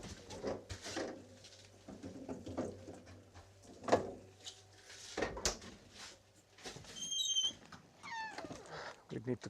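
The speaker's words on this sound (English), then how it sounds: "We need to grease the door because it's such a squeaky boy." A squeaky door on a construction site creaks open or shut several times in thin, high squeals and short thumps, heard under steady conversational talk.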